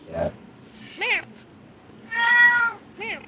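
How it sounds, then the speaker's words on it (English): An angry cat lets out a series of meows and drawn-out yowls, four separate cries rising and falling in pitch with short pauses between, the third the longest and loudest. "That cat's mad."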